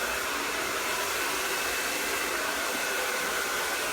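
Hair dryer blowing steadily on hair, a constant close whooshing roar that holds unchanged throughout with no talk.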